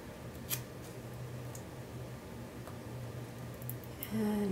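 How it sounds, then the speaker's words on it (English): Scissors snip paper in a Hobonichi Weeks planner, giving a few faint, sparse crisp cuts over a low room hum, close by and with no voices. "So I'm going to cut this like this"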